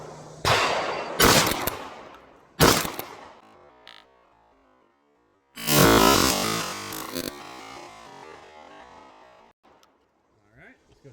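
Loud, close gunshots from a GForce Arms GFPG3 12-gauge pump-action shotgun: three sharp blasts with gaps between them, then a longer burst of noisy firing and rumble before the sound tails off.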